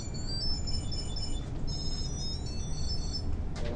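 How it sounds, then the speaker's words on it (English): A Tile Bluetooth tracker rings after being triggered from a phone, giving a repeating high electronic chime pattern that pauses and resumes, heard from across a room over a steady low background rumble. "once I find it, I can click done on the phone to turn off the ringing"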